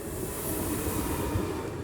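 Japan's Chūō Shinkansen maglev bullet train between Tokyo and Osaka running at speed, a dense, steady rushing roar with heavy low rumble, loud and continuous with no voices.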